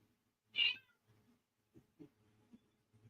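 A cat gives one clear, fairly loud meow near the start, then faint rustling and small knocks follow as it moves about close by in a quiet room.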